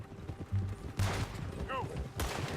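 Gunfire in Red Dead Redemption 2, with two sharp, loud shots about a second apart over a busy game background. Voices talk during the shots.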